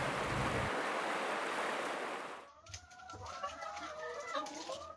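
Chickens clucking in a village setting, a few close clucks breaking through after loud rushing noise cuts off, with scattered bird calls and low background sound.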